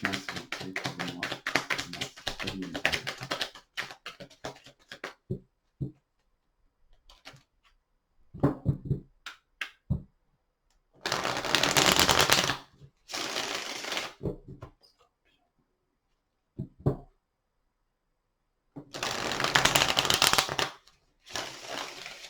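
Tarot cards shuffled and dealt out during a reading: several separate bursts of dry papery riffling and tapping, close and fairly loud, with quiet gaps between, and no talking.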